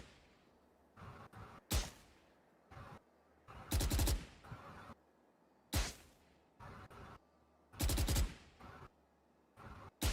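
Bursts of automatic video-game gunfire fired during a recoil test, several short clustered volleys repeating every couple of seconds, loud and sharp with brief pauses between strings of shots.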